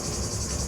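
Cicadas in the sunny south of France, a dense, steady high-pitched buzzing drone that fills the whole short moment with no break.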